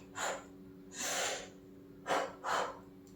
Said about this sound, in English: Some people take 2 inhale and 2 exhale, like this.